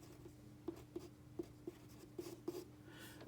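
Pen or pencil sketching on paper during a geometry lesson, a series of faint, light scratching strokes and taps in an irregular rhythm, close and quiet.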